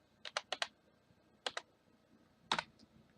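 Several quick, crisp key presses on a computer keyboard while numbers are entered, in short bursts of two or three clicks separated by brief pauses, close and clear.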